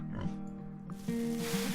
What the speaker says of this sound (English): So now we have pigs.